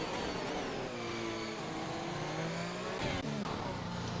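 F1 race car engines scream in a steady high whine in a Monaco Grand Prix racing video game, with a brief gear-shift dip near the end, continuous and close.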